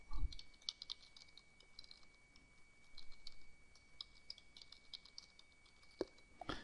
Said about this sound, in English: we'll type in the password as user 3al